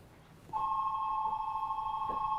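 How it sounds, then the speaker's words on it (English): A telephone starts ringing about half a second in, giving one steady electronic ring tone that holds loud and clear to the end over a quiet room. "The phone's ringing."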